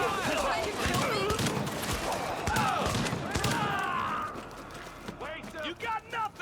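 Gunfire in a video game, a steady stream of rapid shots mixed with other action sounds, with a voice talking over it.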